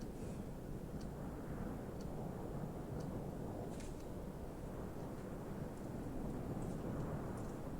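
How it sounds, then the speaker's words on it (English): A Martian dust storm in the Stationeers game blows as a faint, steady low roar of wind, continuous and distant-sounding, with occasional small ticks over the top and no talking. "I really wish the storm would go away though."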